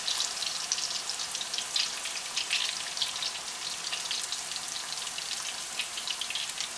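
Tortillas fry in hot oil in a high-edged pan, giving a steady, close crackling sizzle with dense popping and spitting throughout, no voices.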